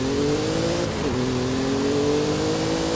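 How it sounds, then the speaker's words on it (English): A Ford V6 in a Lincoln Continental revs in Forza Horizon 5, a steady mid-pitched engine drone holding close and loud, dipping briefly midway before climbing again. "that definitely sounds like a Ford V6"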